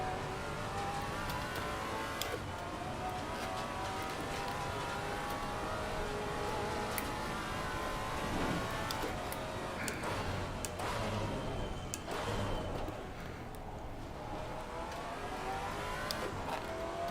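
Maserati GT4 race car in Assetto Corsa Competizione on a drying Indianapolis track, engine revving steadily with throttle surges and wheel spin out of a second-gear corner, continuous and close, with no voices.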